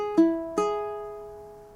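Two plucked ukulele notes on the open A string ring out close and clear, the second left to decay slowly, with no voice over them.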